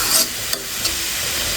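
Sweet pumpkin greens stir-fried in a pan give a steady close sizzle and hiss, with a few soft stirring scrapes and clatters on top, no voices.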